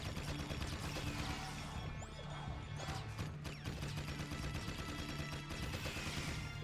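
Rapid gunfire in a Jak 3 shooting gallery, dense bursts of game shots and impacts over a constant loud mix of music and effects.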